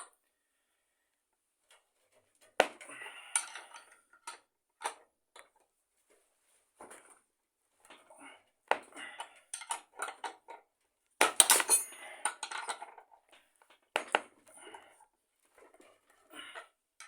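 Sharp metallic clinks and taps ring out in scattered bursts while a bench vise is tightened on a 19 mm combination wrench, with several brighter clatters clustered near the middle and end, close and fairly quiet, with no talking.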